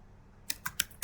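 Four quick keystrokes on a computer keyboard entering a number, crisp close clicks in an uneven rhythm after a brief quiet moment, no talk.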